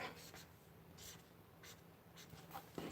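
Felt-tip highlighter squeaking and scratching across journal paper while writing a word, a run of short, close, quiet strokes with brief pauses between them.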